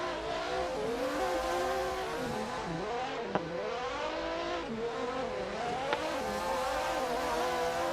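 Cars in a tandem drift battle howl through sustained high revs, engine notes rising and falling with throttle changes over continuous tire squeal, loud and dense throughout, with two sharp brief bangs midway.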